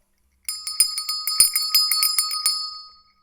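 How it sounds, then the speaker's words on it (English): A small, bright bell rings in a workshop, struck a dozen or so times in quick, uneven succession. Each clear, tinkling strike rings on for a moment before the whole sequence stops. "Dirty wants me to ring the bell."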